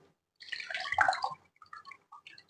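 Water dripping and trickling as a soaked ras malai patty is squeezed by hand, a close burst of splashing drips followed by a few scattered falling drops.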